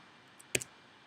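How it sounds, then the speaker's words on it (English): A few quiet keystrokes on a computer keyboard, two or three sharp clicks close together as values are typed in, alone in a near-silent room. "let's type those values because we're going to compare it"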